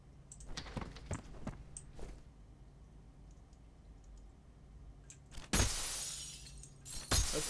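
Glass panes shatter in F.E.A.R., two loud bursts of breaking glass with scattered tinkling pieces, preceded by sharp clicks and small impacts over a quiet low hum.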